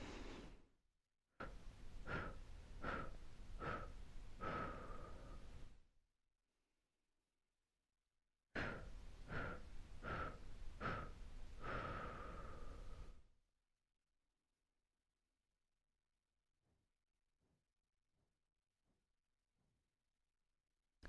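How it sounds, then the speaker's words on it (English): Slow segmented bamboo breathing in and out through the nose during chair yoga, two long breaths each made of four or five rhythmic staccato puffs of airy noise, close and distinct, then fainter puffs after a quiet pause. "continuing to do this bamboo breathing in and out through your nose if possible"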